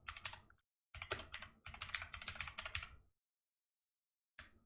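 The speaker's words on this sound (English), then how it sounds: "Wow, I'm not good at typing." Close, quiet bursts of typing on a computer keyboard: a short run of clicks, a pause, then a longer rapid run and a brief final tap after silence, with no talk.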